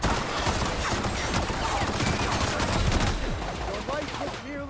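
Phineas's gun in The Outer Worlds fires in rapid bursts, a dense fusillade of loud cracking shots that fills most of the moment before tapering off near the end, with a voice briefly audible.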